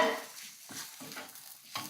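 Onions sizzle in a pan with turmeric and garam masala as they are stirred, giving a soft frying hiss broken by scraping stir strokes nearby.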